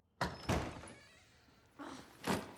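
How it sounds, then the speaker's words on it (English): Doors being banged in the Inside Out movie: two pairs of hard thuds separated by a quieter gap, fairly faint overall. "That poor door has been beaten since they've been here."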